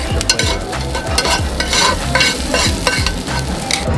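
Beef sizzles loudly in a greased pan at a Hanwoo restaurant in Seoul's Majang-dong market, with a steady frying crackle and repeated scraping stirs of a utensil close up, no talking.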